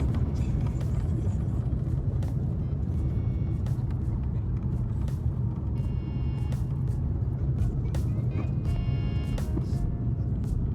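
Airliner braking on the runway after landing in Rome, a loud steady roar and rumble of engines and rolling wheels, with cabin rattles and faint voices in the background.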